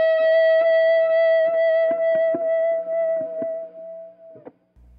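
A single sustained electric guitar note bent up a whole step at the 15th fret of the B string, held with vibrato and played alone with light distortion and echo, ending in a brief pick noise.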